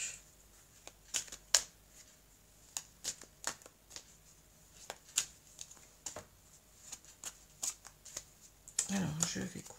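Oracle cards being shuffled by hand, a string of quick papery riffles and slaps in irregular bursts, close and crisp, with someone speaking French during the shuffling.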